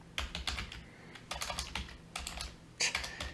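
Bursts of quick key clicks on a computer keyboard come close and clear, several short typing runs separated by brief pauses, with no voices.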